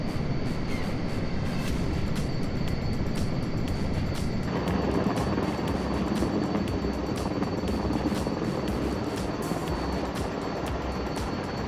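Helicopter landing on a pad in the video game MSFS 2024: a loud, steady rotor and turbine drone with rhythmic blade beats and a constant whine, running throughout without speech.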